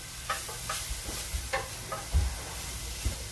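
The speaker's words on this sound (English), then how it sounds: "I'm just cooking off these leeks a little bit" Leeks sizzle softly in a pan while being cooked for risotto. A steady frying hiss runs under repeated scraping stirs and light knocks of a utensil against the pan.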